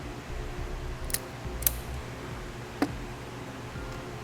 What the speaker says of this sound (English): So we'll cut off the excess, strip back some insulation.